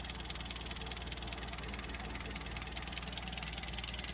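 A motorcycle engine idles steadily after its air screw has been turned down, a low, even, continuous rumble with a slight knocking pulse, close and fairly loud, running alone without voices.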